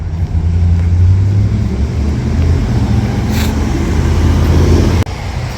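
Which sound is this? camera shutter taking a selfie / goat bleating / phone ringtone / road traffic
road traffic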